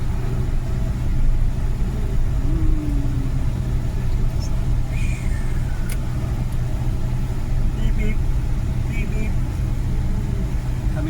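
A car drives downhill on a mountainside road, its engine a steady low rumble throughout with faint road noise and no sharp events.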